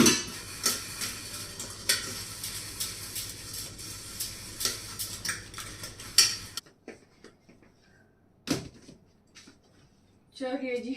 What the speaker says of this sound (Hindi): चलिए जी बर्तन मैंने साफ कर लिए हैं